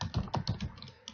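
Quick clatter of keys on a computer keyboard, about half a dozen close, crisp keystrokes in a fast, uneven burst.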